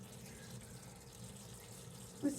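Steady stream of fluid draining from a 1931 Ford Coupe in a shop, a continuous faint trickling wash that holds even throughout, with a brief louder splash near the end.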